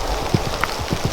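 Hooves of a horse cantering in a riding arena, a quick run of soft, rhythmic thuds at close range, steady and alone with no voices.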